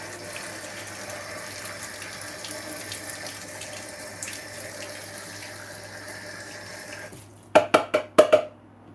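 Tap water runs steadily into a pan at a kitchen sink for about seven seconds, then stops, followed by several sharp metallic clanks of the pan being handled.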